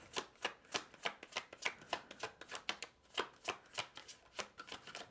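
Tarot cards being shuffled by hand, a rapid series of crisp riffling snaps in an uneven rhythm, close and clear with no talking.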